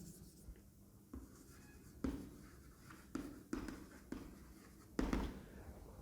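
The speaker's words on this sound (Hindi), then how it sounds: "केमिकल इक्वेशंस लिख देते हैं।" Chemical equations are written on a board in a Class 10 chemistry lesson: a steady, faint scratch of marker or chalk broken by several sharper taps as strokes begin, with no talking.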